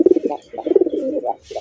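Pigeons cooing in a cage, repeated soft throaty coos in rhythmic bursts with short pauses, close and fairly loud with no talking.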